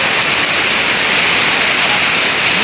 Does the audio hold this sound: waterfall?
yes